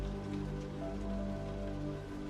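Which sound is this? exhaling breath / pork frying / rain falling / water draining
rain falling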